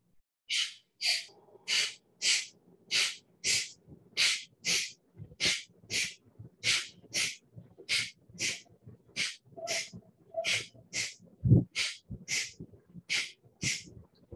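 Kapalabhati pranayama breathing: a steady series of about twenty-five sharp, forceful nasal exhales in an even rhythm, close and clear in a quiet room, with faint sounds between the bursts.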